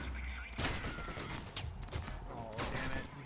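Gunfire in the video game Alpha Protocol: a few sharp, loud shots and impacts in close succession, each a sudden bright burst with crackling tails, mixed with a voice talking over the action.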